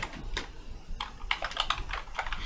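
Clicky keystrokes on a computer keyboard, a quick irregular run of sharp taps with a brief pause near the start, close and fairly loud over faint background noise.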